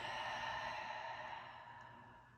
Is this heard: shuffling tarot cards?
no